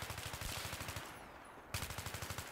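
Rapid automatic gunfire from a weapon in the video game Battlefield 3, fired in two sustained bursts separated by a brief pause; the shots are sharp, evenly spaced and close.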